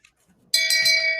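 A shame bell sound effect, a single bright ringing clang that starts abruptly and rings on sustained and loud, alone with no talking.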